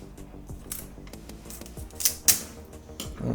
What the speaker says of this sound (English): let's just rip this sucker apart